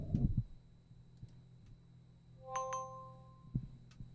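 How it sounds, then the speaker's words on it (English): A short two-note electronic chime sounds as the iPhone camera is selected in Zoom, quiet and heard from a mic pointed away, after a soft thump, with faint background hum. "you can hear the chime when I select camera"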